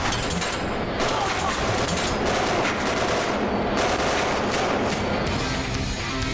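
Continuous video game gunfire, a dense rapid rattle of shots and bursts that keeps going without a break at steady loudness, with no talking.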